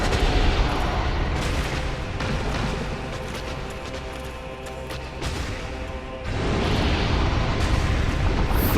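Flames roaring in the video game Dark Souls, a loud, dense rushing burst that surges, dips briefly around the middle, then swells again and holds steady to the end.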